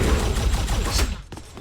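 Rapid bursts of enforcer pistol fire from Unreal Tournament, dense and loud through the first second before thinning into a few sharper shots near the end, with no talking.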